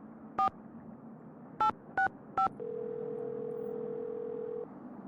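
A telephone call dialed in a Nancy Drew game, with four short keypad tones, one alone and then three in quick succession over faint hiss, followed by a steady ringing or dial tone lasting about two seconds.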